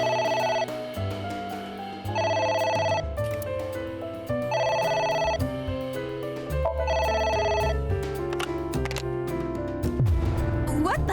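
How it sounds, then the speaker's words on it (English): A telephone rings in the video game AI: The Somnium Files, its repeated ring bursts sounding over a steady bed of game music. "A phone. Should I pick it up?"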